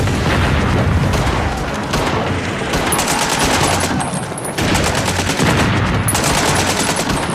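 Heavy machine-gun fire and booming blasts rattle on without a break, loud and dense, with brief lulls before the barrage resumes, as on a World War I battlefield across No Man's Land.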